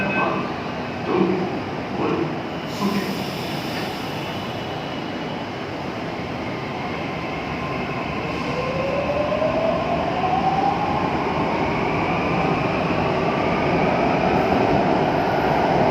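Mumbai metro train slowing into a station, a steady loud rumble heard from onboard with a rising whine of the drive motors, continuous and close, no speech.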